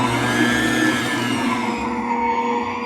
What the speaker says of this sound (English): Let's mix the ingredients on medium speed